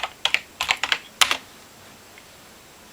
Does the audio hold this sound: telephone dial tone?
no